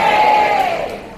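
A luncheon crowd at a staff welcome-back event shouts its choice together, one loud unified burst of voices that quickly fades.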